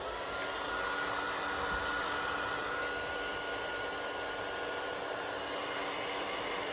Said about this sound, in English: I'm just plugging my heat tool in.